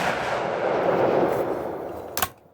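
A single sharp .308 rifle shot fired at pizza pan targets from about 25 yards outdoors, loud and close, cracking out near the end after a steady rush of background noise.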